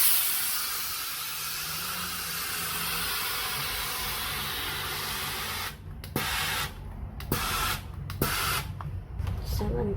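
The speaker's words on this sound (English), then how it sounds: "then you use your steaming iron and just go." Steaming iron passed over a pinned, stretched crochet granny square, giving a broad steady hiss for several seconds, then broken into short bursts and pauses as the steam is pulsed, with faint handling sounds beneath.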